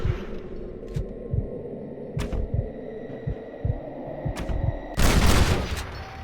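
Gunfire in the Red Dead Redemption video game: a series of sharp shots over a low humming background, separated by uneven gaps, then a louder, longer blast near the end.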